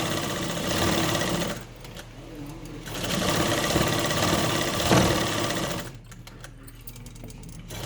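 A sewing machine stitches a cloth mask in fast, loud whirring bursts, stopping briefly in between, close to the listener, with someone speaking in the pauses.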